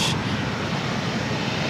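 Steady, loud roar of a passenger airplane at LAX airport, a continuous broadband engine rush that holds evenly from start to finish with no talking.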